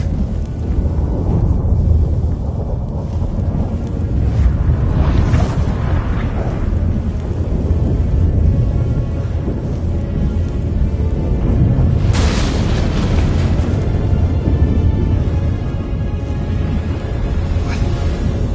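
Thunder rumbles and booms continuously through a video game storm, loud and close, with heavy low roaring and a sharp crack partway through.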